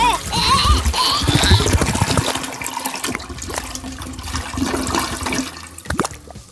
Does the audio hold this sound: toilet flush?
yes